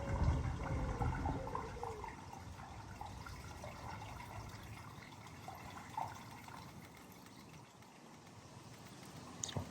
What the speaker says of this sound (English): I just want to flush it all out before we start messing around with this bit